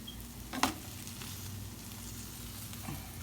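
Frosted Flakes French toast fries in a pan with a steady low sizzle, broken by a sharp clack of a spatula as a slice is flipped and a softer tap near the end.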